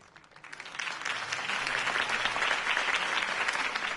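Crowd applause in a Batman video game, cheering a Harvey Dent campaign speech: applause that starts quietly, rises within a second and holds as a dense, steady wash of clapping from many hands.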